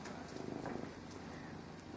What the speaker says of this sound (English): That cat is really going to have to go if you're going to make these sounds